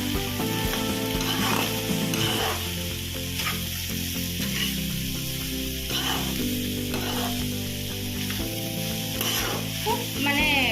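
Banana flower frying and being stirred in a pan, with continuous sizzle and scraping stir sounds close by throughout. Faint hints of voice sit beneath.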